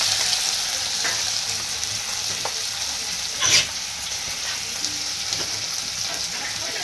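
Bajji fry in hot oil with a steady, dense crackling sizzle that stays even throughout, broken by one brief louder burst partway through.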